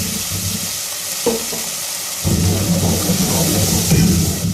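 Water poured into spices frying in a pan for a red bean curry, a quieter start giving way to a sudden, steady rush of sizzling and bubbling that carries on loudly to the end.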